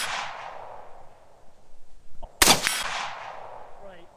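Suppressed gunshot from a rifle with an 8-inch barrel, a single sharp crack standing out against quiet outdoor background, followed by a short fading tail.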